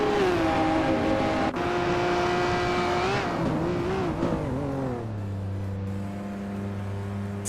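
A 2019 Radical SR5 race car in a racing video game gives a loud, sustained engine whine that climbs and dips through gear changes, then drops to a lower steady drone.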